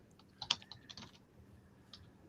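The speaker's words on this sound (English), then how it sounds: "Stop typing." Rapid bursts of computer keyboard typing, clustered keystrokes clicking near and fairly quiet for about a second, then a lone tap after a pause, with no voice.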